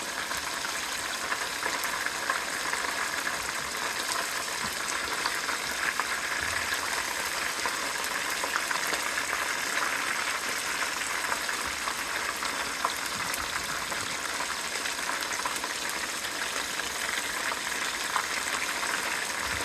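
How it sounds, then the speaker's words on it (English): Chicken strips coated in Louisiana chicken fry crackle and sizzle steadily in hot oil, a dense, continuous frying hiss close up with no talk over it. "You hear how the oil is slowing down?"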